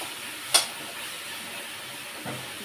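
Spices tempering in hot oil in a pan before macaroni goes in, giving a steady soft sizzle and hiss throughout, with a sharp clatter near the start and a lighter knock later.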